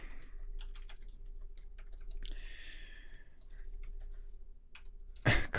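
Fingers tap out a short burst of quick, uneven clicks on a computer keyboard in a quiet room. The keystrokes come in small clusters with pauses between them, close and fairly soft, ending in a louder bump.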